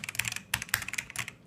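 Quick bursts of keystrokes on a Logitech G910 Orion mechanical gaming keyboard, clicky and crisp, in three brief clusters separated by short pauses, fairly quiet and close with no voices.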